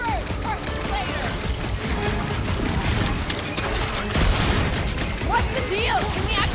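Rapid sci-fi gunfire and blasts in the Guardians of the Galaxy video game's Quarantine Zone combat, dense overlapping shots and impacts with characters shouting over the action.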